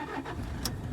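A Toyota Innova engine cranks and catches, settling into a low, steady rumble heard up close with a brief higher click partway through.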